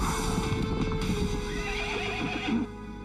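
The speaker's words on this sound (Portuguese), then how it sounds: "Senhor, os soldados estão nos perseguindo a cavalo." Horses gallop in a cartoon chase as soldiers pursue fleeing people on horseback, with steady clip-clop hoofbeats and a whinny over a dense, loud, continuous rumble.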